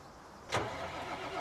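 An engine turns over and catches on a tractor in the farming game Midtown USA 4X, a brief burst followed by a steady low idle running alone.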